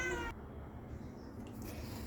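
A pet cat meows indoors at home, one clear call at the start followed by quieter household background with faint movement.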